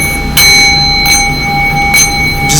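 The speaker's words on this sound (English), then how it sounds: "Let me hit this bell for a second" A hand bell is struck four times at even intervals, each strike ringing out bright and loud with steady high tones sustaining beneath, close and without any voices.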